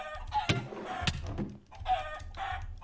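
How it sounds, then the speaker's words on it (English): A chicken in a video game clucks several times in short, uneven bursts, fairly close, over a low steady background hum. "I'm assuming that's chicken."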